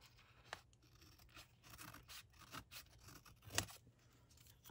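Scissors snip through paper while a crafter works on a green-themed journal page: a few quiet, close cuts and rustles, with one sharper, louder snip toward the end.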